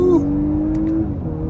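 A 2023 Audi A5 Sportback S-Line 45 pulls away hard, its engine giving a steady, rising drone for a brief moment while a voice talks over it.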